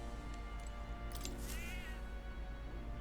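A cat in the video game Metaphor: ReFantazio gives a brief high meow over a quiet, steady game background hum.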